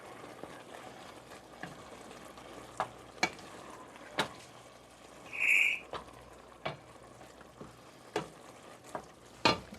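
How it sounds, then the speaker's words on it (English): Food for pasties being stirred in a pan, a quiet continuous sizzle with irregular scraping knocks from the spoon, plus one brief higher-pitched squeak midway. "Stirry stir."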